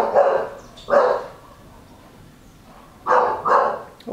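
A dog barks close by in two separate bursts of two barks each, with a quiet pause between them and no talking.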